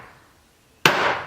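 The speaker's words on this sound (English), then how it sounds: "So you're using a chasing hammer," A chasing hammer with a big head strikes a metal stamp once, a sharp bright impact that rings on after a quiet pause.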